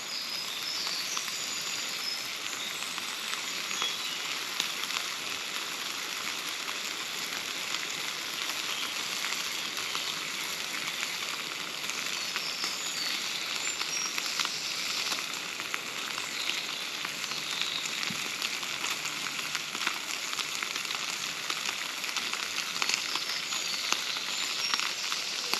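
Bacon frying in a pan over a campfire in the woods makes a steady, faint sizzle with dense crackling that continues unbroken the whole time, with no voices.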